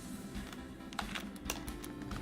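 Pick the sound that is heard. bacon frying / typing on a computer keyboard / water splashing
typing on a computer keyboard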